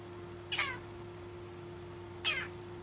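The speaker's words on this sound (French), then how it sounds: "Bonjour, mon gros chat." A pet cat named Minus gives two short meows about two seconds apart, close by over a quiet indoor hum.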